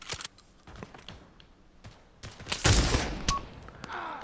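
Scattered gunfire in the VR shooter Pavlov during a team deathmatch against bots: a string of sharp, separate shots, then a louder burst of fire, with clicks of weapon handling between them.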